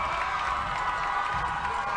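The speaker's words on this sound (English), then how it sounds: "The Ravens crowd getting excited at the opportunity to get this to a 7-point game" A Ravens home football crowd at a Delmar versus Sussex Tech game makes a steady, distant roar of cheering and murmur that holds without a break, with no clear peaks.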